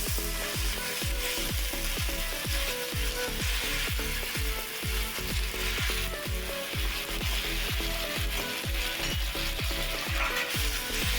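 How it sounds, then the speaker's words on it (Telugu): Chopped brinjal fries with cumin in hot oil, a dense steady sizzle throughout with regular rhythmic ticking pulses underneath, close and even in loudness. "కోసి పెట్టుకున్న వంకాయలు వేస్తున్నానండి దీంట్లో"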